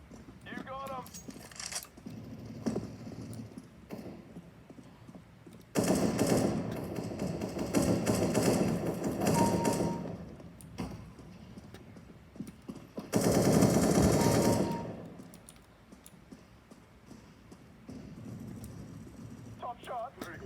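Gunfire at a shooting range or exercise, bursts of heavy shots around the middle and later, loud and near, with people talking and calling out between volleys.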